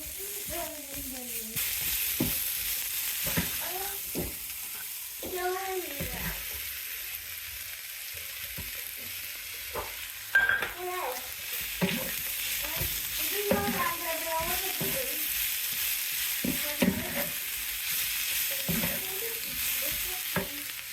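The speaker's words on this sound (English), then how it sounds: "then I'll fry together some cabbage, some potatoes, and some steak" Cabbage, potatoes and steak fry together in a pan, a soft, steady sizzle running throughout while a person talks over it at length.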